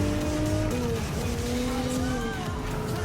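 A Toyota GR Supra drives in Gran Turismo 7, a Gr.4 GT Cup race, its engine droning steadily and shifting pitch through gear changes, with a brief tyre squeal, while someone talks over it.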